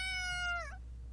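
A cartoon cat aboard an airship in an animated film lets out a single clear, drawn-out meow that bends downward at the end, heard close and alone over a low steady hum.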